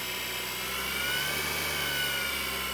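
A blower motor driven by a power converter with a speed potentiometer whirs steadily in a constant, loud broadband rush with a faint tonal whine, running alone without any talk.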